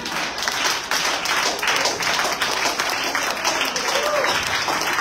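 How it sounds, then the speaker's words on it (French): A live audience bursts into dense, sustained applause with cheering during a French-language event, loud and continuous throughout with no break. "Est-ce qu'on peut acclamer?"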